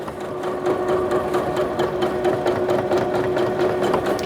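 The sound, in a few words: Bernette b38 sewing machine sewing stretch material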